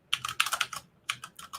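Computer keyboard typing in two quick runs of sharp clicky keystrokes, close and fairly loud, with a short pause between bursts and no talking.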